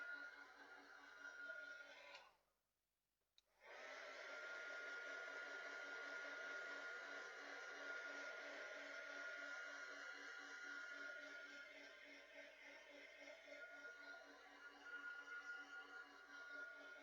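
A hot air gun blows steadily to dry watercolour paint, giving a loud, even whirring roar that cuts out briefly and then starts again, holding constant for a long stretch with no one talking.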